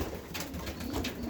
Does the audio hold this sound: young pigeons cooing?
yes